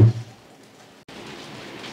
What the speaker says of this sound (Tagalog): Ang lakas po ng ulan. Parang may yelo yung ulan.